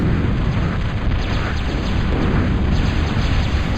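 Continuous heavy rumbling barrage of bomb explosions from level bombers striking ships in a Total Annihilation match, dense low booms rolling together without pause and no talk over them.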